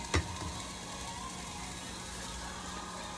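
Onions and celery frying in olive oil in a pan, a quiet, steady sizzle heard alone after a brief clink at the start.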